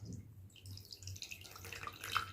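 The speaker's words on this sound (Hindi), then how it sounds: "सो इस बोल में मैं पानी डाल रही हूं" Water poured into a bowl holding a coin gives a faint, steady trickle with soft splashing that grows a little brighter toward the end, with no one speaking.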